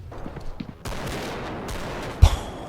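Shotgun fire in a realistic shooter video game, a short burst of loud blasts with a sharp close shot near the end, alone without talk.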